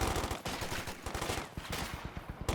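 Rapid, sustained bursts from a .50 cal machine gun in Company of Heroes 2, a dense rattling stream of closely spaced shots filling the whole stretch with steady loudness and no talking.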